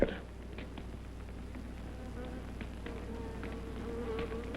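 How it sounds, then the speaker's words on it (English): Steady insect buzz of a bee, close and continuous, droning over a low background hum with a faint voice at moments. "What's that? The bee."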